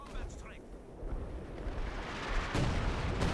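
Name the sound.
105mm artillery shell strike in Company of Heroes 2 video game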